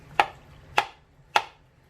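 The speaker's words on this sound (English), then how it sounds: "So what I'm doing is I'm just chopping roughly." Knife chopping mushroom stems roughly on a board during home canning prep: three crisp, evenly spaced chops close up, each a sharp thunk with a quick fade, over a faint low hum.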